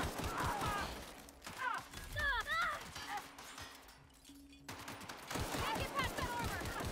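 Gunfire from a weapon in The Outer Worlds video game, a burst of rapid shots crackling amid combat noise and game sounds, fairly loud and close, repeating in clusters across the scene.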